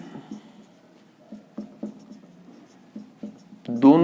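Marker or chalk strokes scratching across a board during a physics lecture on operators, a series of short taps and squeaks spaced irregularly, with a voice speaking over the writing.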